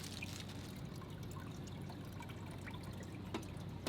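Water trickling and pouring steadily into a small kids' aquarium, a continuous soft wash of liquid with faint drips, fairly quiet and unbroken, no voices.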